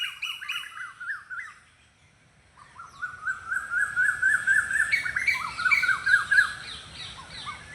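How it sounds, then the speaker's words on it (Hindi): Small birds calling in alarm at a kite overhead, a dense stream of sharp repeated chirps and squawks, briefly pausing and then returning louder and more crowded. "ये इतना इसलिए चिल्ला रहे हैं पक्षी क्योंकि इनकी टेरिटरी में एक बड़ा एनिमल आ गया है"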